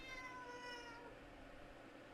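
A cat meows in a house, one drawn-out, fairly faint, tonal cry that fades over about a second, followed by low room noise.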